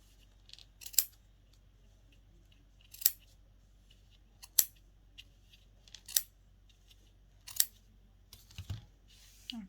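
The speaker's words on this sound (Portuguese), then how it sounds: "E aí, depois vai cortando para ficar toda no mesmo comprimento." Scissors snip a knitted yarn fringe to even length: about six crisp, separate cuts spaced a second or two apart, close and clear against a quiet background.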